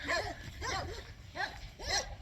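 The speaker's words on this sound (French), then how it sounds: "Ah, il y a des chiens, Saiko il va courir." Dogs barking, a few short yelping barks in quick bursts at close range, with no talk over them.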